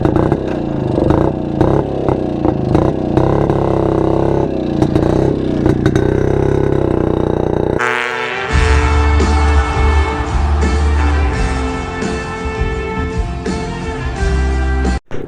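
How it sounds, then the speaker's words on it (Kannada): A vintage Jawa and a Yezdi Roadking, both two-stroke motorcycles, run close by with a buzzing, revving engine note that shifts to a steadier idle with clattering mechanical noise partway through. "ಡ್ಯಾಡಿ ಜಾವಾದಲ್ಲಿ, ಮಗ ರೋಡ್ ಕಿಂಗಲ್ಲಿ."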